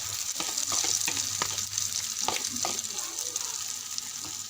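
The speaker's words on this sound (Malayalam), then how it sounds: "മാഗി ഓംപ്ലേറ്റ് ആക്കാൻ പോകുന്നത് വെച്ച് ഇനി നമുക്ക് മുട്ട ഒഴിച്ചു കൊടുക്കാം" Egg poured into a hot pan sizzles and fries steadily for a Maggi omelette, a continuous close crackle with scattered stirring clicks and scraping throughout.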